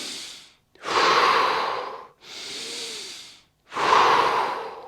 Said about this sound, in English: Inhale, get bigger, all these muscles relax. Exhale,